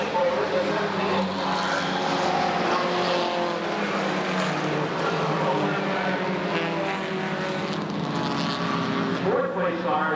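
Race cars at Redwood Acres Raceway roar steadily past, a mix of engines at high revs with shifting pitch, while a race announcer talks over them.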